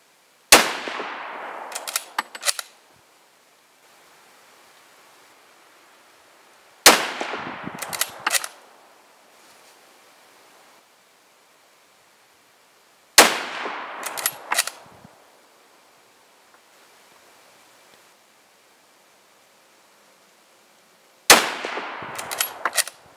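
Rifle shots from a .303 British rifle firing Prvi Partizan 174-grain FMJBT ammunition at a range, four loud sharp cracks spaced about six seconds apart, each followed by a brief burst of clattering and ringing, with quiet gaps between.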